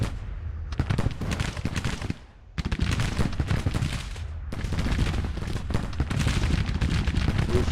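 Dense, continuous volleys of musket and cannon fire from a Civil War battle in the strategy game Grand Tactician, loud and unbroken apart from a short lull near the start.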